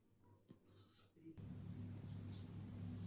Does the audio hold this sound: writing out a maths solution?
no